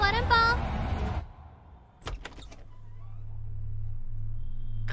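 A door is opened indoors: a voice talks briefly at first, then after a pause come a few sharp latch clicks and knocks, followed by a low steady hum.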